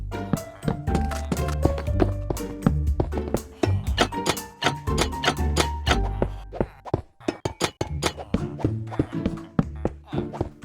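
Copper and glowstone blocks are placed one after another while building in Minecraft: a rapid, irregular series of short clicky thuds with a low tonal background running underneath.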